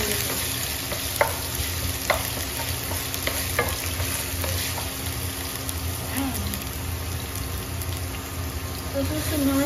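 Ginger sizzles and fries in a hot pan for squid adobo, a steady dense crackle with occasional stirring scrapes and clicks throughout, close and fairly loud.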